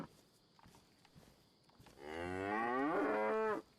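A cow in a survival video game lets out one loud, drawn-out moo lasting about a second and a half, rising out of quiet game ambience near the end.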